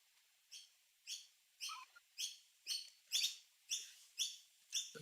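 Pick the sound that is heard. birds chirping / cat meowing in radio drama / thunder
birds chirping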